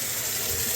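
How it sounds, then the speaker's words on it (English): Water runs steadily through a newly installed washing machine valve into a sink, a continuous close rushing splash with no pauses or voices. "we first do a soft check where we just run some water"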